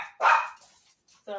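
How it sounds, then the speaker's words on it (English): Two short bursts of dog barking from household pets, a loud one near the start and another at the end, with a quieter gap between them. "my dogs."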